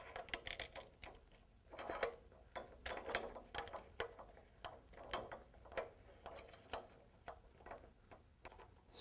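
A screw being tightened on the seat of a LeMond RevMaster Pro exercise bike, heard as a quiet, steady run of small ratcheting clicks and ticks, close by and without speech.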